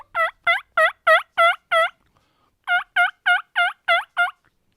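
A hand-operated turkey call mimicking a wild turkey gobble: two rapid bursts of about six sharp, throaty gobbling notes each, separated by a short pause, loud and close with no talking.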